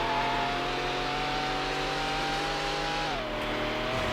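A racing car engine in the PS2 game Need for Speed: Hot Pursuit 2 drones at high, steady revs, then drops pitch sharply near the end as it shifts or eases off, loud and continuous.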